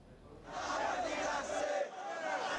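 BNP activists chant together in a celebratory street procession, a crowd of raised voices swelling in after a brief lull and holding a steady, loud roar with rhythmic surges.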